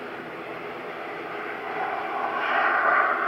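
Airliner noise at Aberdeen Airport as a plane comes in to land: a broad, steady roar that swells gradually louder toward the end, heard from some distance with no talking.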